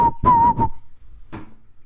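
A girl whistles a few short, clear tones in quick succession, then after a pause gives one more brief breathy note, close and loud.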